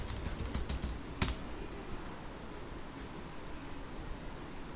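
Rapid, light clicking of keys on a computer keyboard while entering data into an Excel spreadsheet, with a steady patter of keystrokes and one sharper tap standing out near the start.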